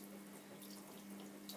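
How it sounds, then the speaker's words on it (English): A very gentle trickle of tap water runs over a raw fleece lock held in the hand, a soft continuous splash with no voices. "just under a very gentle trickle I lay the lock onto my hand, and I allow the water to run from the middle to the butt end"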